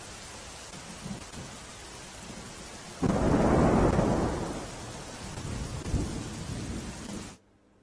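Heavy monsoon rain pours steadily in Ahmedabad while a loud, rolling thunderclap bursts in midway and slowly fades into continued downpour.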